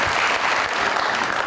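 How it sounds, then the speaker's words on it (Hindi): Steady, dense applause from a crowd, loud and continuous throughout with no pauses. "बहुत सारी तालियां।"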